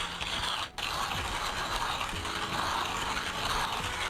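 Manual coffee grinder crushing espresso beans, a steady close ratcheting, crunching grind that runs on without a break apart from one brief dip.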